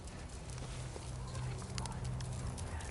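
Horse hooves thud steadily on an arena surface during a riding lesson, a soft low rhythmic footfall running throughout beneath faint background noise.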